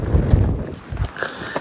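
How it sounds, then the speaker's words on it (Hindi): Cold mountain wind buffets the microphone at a high viewpoint on the trek from Fairy Meadows toward Nanga Parbat, with light snow falling. Loud low rumbling gusts rise and fall throughout, with no voices. "एक तो ठंडी ठंडी हवा चलनी पई"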